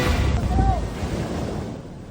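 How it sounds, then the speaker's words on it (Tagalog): Strong ocean waves crash and surge in a continuous, loud roar mixed with wind buffeting the microphone, with no clear breaks in the wash of sound. "Sa gitna ng malalakas na hampas ng alon"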